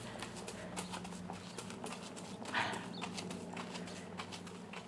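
A horse named Sadie steps forward over ground poles on a diagonal path, with soft, steady hoof clops at walking pace heard from a middle distance under faint background noise.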